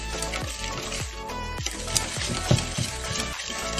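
Cake batter for a fresh strawberry loaf cake is stirred by hand, with rhythmic sloshing strokes and utensil taps against the bowl, close and moderately loud, with no talking.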